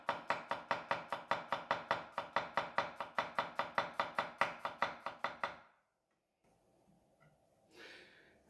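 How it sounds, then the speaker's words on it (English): A Seki Magoroku nakiri knife chops garlic on a board in a fast, steady run of about two dozen crisp, close strikes, then stops, leaving faint handling noise and a brief rustle. "another chop of the garlic"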